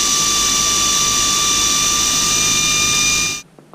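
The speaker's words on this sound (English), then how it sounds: "Air ratchets are very nice for situations like this, but the only problem is these things are excessively noisy" An air ratchet whines loudly and steadily for more than three seconds on a SuperATV suspension job, a high pneumatic tone with a constant whirr, then it cuts off abruptly into near silence.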